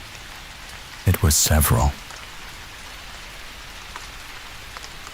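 Steady rain falls in a continuous soft hiss throughout, with a brief spoken phrase rising over it near the start.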